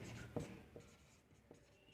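A pen or marker makes a few short, soft strokes and taps close by during a quiet Indian polity lesson, faint against a low background hum.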